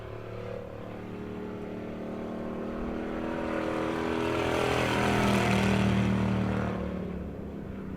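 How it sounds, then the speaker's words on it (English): Two race cars at Monett Motor Speedway during weekly racing, engines droning and swelling louder as they pass close by, then receding, with no talk over the roar. "And we've got 2 cars racing now."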